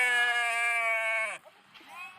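A single goat or sheep from a herd of Ramanathapuram goats lets out one long, clear, wavering bleat, close and fairly loud. Faint, softer sounds follow after it breaks off.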